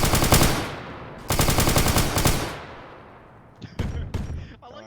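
Automatic gunfire in a Warhammer 40K beach assault video game, with long loud rapid bursts of machine-gun fire, then a quieter gap and several shorter sharp bursts toward the end.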